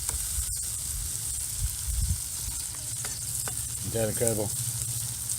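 Four hamburgers sizzle steadily over a wood-fired brick rocket stove, a continuous close frying hiss throughout, with someone briefly speaking over it.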